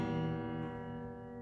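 An acoustic guitar strikes a single chord fretted too far from the frets, giving one soft, steadily fading ring that lasts just over a second, alone and without voices.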